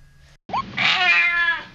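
Cats meow in a video game, a short faint chirp followed by a loud, drawn-out close meow with a rising then falling pitch.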